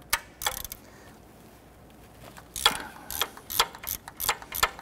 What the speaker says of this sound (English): I'm going to loosen that bolt.